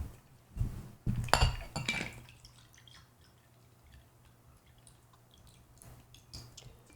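Liquid poured from a cocktail shaker into a glass, with a few clinks of glass and metal at the start and a brief trickling pour, then quiet with faint small knocks.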